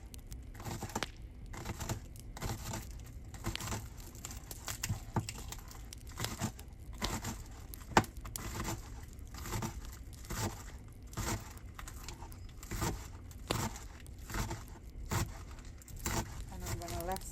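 A knife finely chopping shallot on a cutting board while cooking Guyanese stew fish, giving quick irregular close-up taps and crunches that run steadily throughout.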